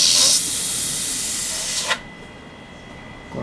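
Airbrush spraying paint at reduced air pressure: a strong breathy hiss at first, then a lighter, steadier spray hiss that cuts off abruptly, leaving quiet with a faint tone.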